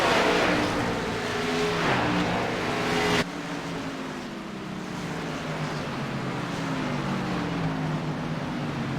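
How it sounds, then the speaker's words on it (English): Race car in the iRacing video game, driving down onto pit road at Virtual Milwaukee Mile, a steady engine drone with a sudden drop in tone partway through as the car slows, fairly loud and continuous with no talking. "So he's going to go down pit road here, flying off into pit road"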